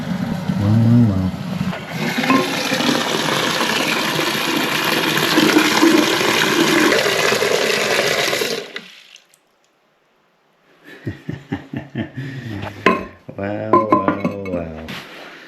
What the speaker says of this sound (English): let's get this toilet pushed back and flushed